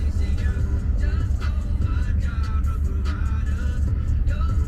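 Road traffic around a waiting car: a steady, loud low rumble of engines and passing vehicles, with faint tonal sounds from music layered on top.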